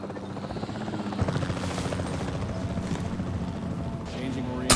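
Capture team helicopter in the video game Jurassic World Evolution 3, a steady rotor drone and chop with mechanical whine running throughout at moderate level, overlaid by game effects and hoof-like clatter.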